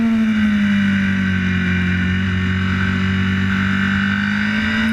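Racing motorcycle engine on the Isle of Man TT course, braking toward the Sulby Bridge right-hander: a loud, steady close engine drone with a strong sustained tone that dips slightly mid-clip, with no voices.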